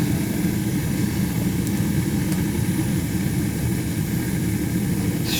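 A roughly 50-year-old gas boiler with two zones, fired and running, gives a steady loud low roar and rumble. It holds constant throughout with no break.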